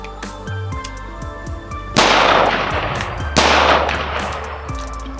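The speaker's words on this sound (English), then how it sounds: "that was 2 rounds of 62 grain green tip" Two loud rifle shots of 62 grain green tip NATO rounds from a 14.5 inch barrel strike an armor plate outdoors, each a sharp crack with a ringing tail, spaced about a second and a half apart.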